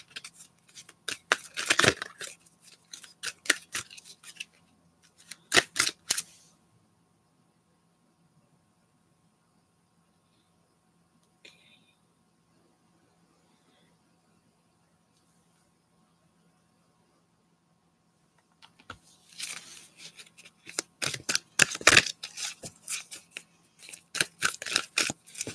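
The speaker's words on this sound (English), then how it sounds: "going to shuffle and I'm going to put down 3 cards for you to choose from" Tarot cards being shuffled by hand in two bursts of dense, crisp riffling and slapping, loud and close, split by a long near-silent pause with one faint tick, and no one speaking.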